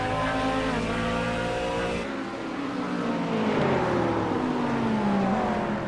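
Engines roar continuously as race cars in iRacing, including a Corvette, come out of the pits at the Charlie Road Course and collide, with rising and falling engine pitch and tire squeal, loud and sustained.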